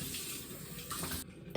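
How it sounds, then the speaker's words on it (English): Cold water runs from a bathroom sink tap while someone rinses their face, a steady close hiss and splash that cuts out near the end before a brief louder splash. "And then I rinse that off with some cold water."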